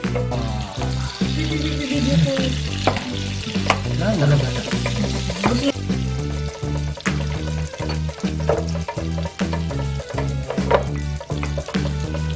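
Meat sizzles and fries on a homemade Korean barbecue grill set up for samgyupsal at home, a steady crackle that runs under a rhythmic, pulsing background of music throughout.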